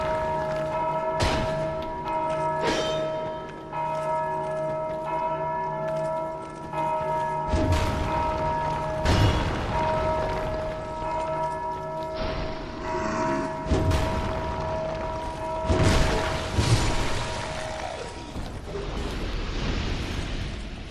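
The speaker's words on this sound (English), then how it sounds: "he's the only one that can actually bash them bells like that" Huge bells in Dark Souls 2 are struck hard again and again, each heavy clanging hit leaving a long, booming, sustained ring over the game's ambience.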